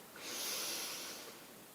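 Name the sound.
deep breath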